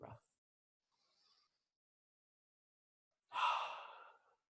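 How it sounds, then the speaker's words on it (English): A single deep breath, a long slow exhale like a sigh, close and clear against near silence after a brief earlier breath. "Deep breath"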